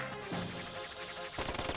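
A gun firing in the action RPG Dark Cloud 2: quiet sharp shots that tighten into a faster burst of cracks toward the end, with no speech.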